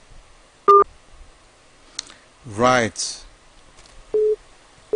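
A phone line on a call-in program drops, followed by short repeating electronic beeps of a busy or disconnect tone. A rising warble and a brief spoken word come in between.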